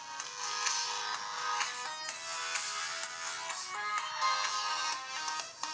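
An Acer Liquid Jade S phone lying on a table plays music through its speaker at full volume, a bright tonal melody with shifting notes heard clearly and fairly steadily, without any voices.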